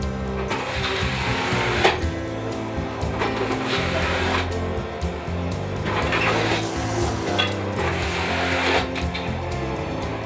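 A machine grates raw potatoes for a Lithuanian potato dish, giving a loud, steady whirring grind with rhythmic surges and scraping bursts every couple of seconds, close by and without voices.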